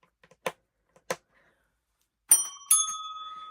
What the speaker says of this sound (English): we get to ring the bell because we finished one